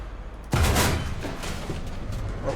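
Tank cannon firing in a video game about the Challenger 2 tank, a sudden loud boom followed by rumbling blast noise and scattered distant crackles.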